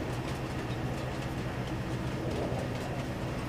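A leased freight train rolls steadily through the farmland of a Farming Simulator map set in the 1990s, a continuous rumbling engine drone with a faint rhythmic rail clatter, close and constant throughout with no talk.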